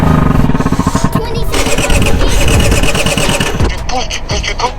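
Motorcycle that stalled while leaking fuel being restarted: loud, close engine cranking and sputtering into rough, revving bursts, with voices talking over it.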